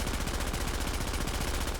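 Sustained automatic fire from a FAMAS rifle in The Division, a dense rapid-fire burst running steadily and loud for the whole stretch with no talk.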